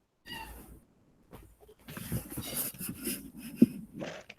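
A small cat meows and makes wheezy, breathy vocal sounds, several close, uneven cries over a few seconds with no other talk.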